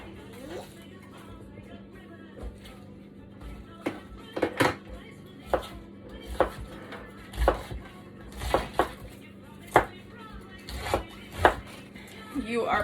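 A very sharp knife chopping cabbage for sauerkraut on a board, a dozen or so crisp, irregular chops up close, with talk running underneath.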